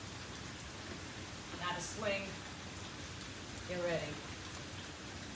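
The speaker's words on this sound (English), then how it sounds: "Out here in South Florida, it's a horribly nasty rainy day, so you might hear the noise in the background." Heavy rain pours steadily outdoors on a nasty day in South Florida, a constant hiss under brief spoken words from a nearby voice.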